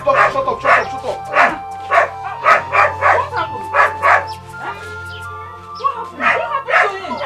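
Dog barking in quick repeated bursts, fairly close and loud, mixed with people talking in a domestic setting.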